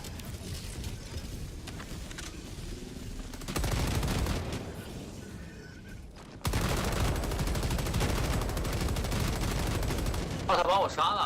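Bursts of Stalwart machine gun fire with explosive rounds crackle and boom in a Helldivers 2 battle, loud and sustained in two long stretches, with shifting combat noise between them.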